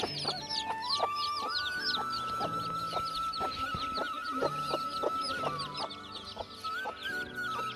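Hens clucking steadily and close by on a farm, several birds overlapping in repeated rhythmic clucks and calls with no talking.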